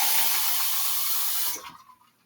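Water streams into a glass as a steady hissing pour that cuts off after about a second and a half, leaving quiet room tone.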